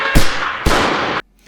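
Two loud, close AI-generated gunshots about half a second apart, each a sharp crack with a ringing tail that cuts off abruptly.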